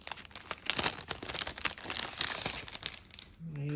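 Crinkly craft paper insert for a portable-size traveler's notebook being unwrapped and opened up close, a dense run of crackles and rustles with a brief low voice near the end.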